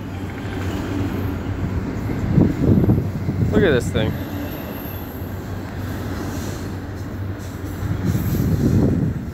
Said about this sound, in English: You guys want to see this train go by?